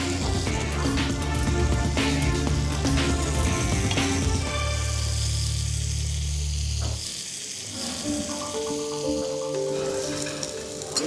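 Skin rendering and frying in a hot pan on a cooking competition set: a loud, continuous sizzle and crackle, steady throughout with a deeper roaring layer underneath for the first several seconds.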